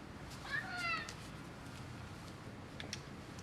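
A cat meows a few times close by, brief harmonic cries in a workshop where winch-bot robot mechanisms are being debugged, over steady background hiss.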